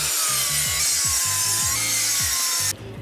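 A hand saw cuts through wooden deck blocking in quick, steady back-and-forth strokes, close and rasping, with a continuous high whine running underneath before it abruptly drops away near the end.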